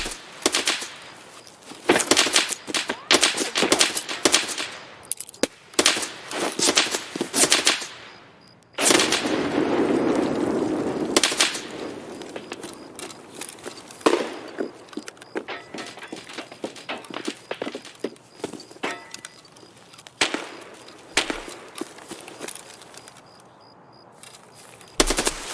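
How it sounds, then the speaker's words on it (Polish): Rapid bursts of automatic gunfire crackle in Escape from Tarkov on the Customs map, loud and close, broken by short pauses and a sustained rattling stretch midway, with scattered single shots toward the end. "Jezu, ale kto tam strzela,"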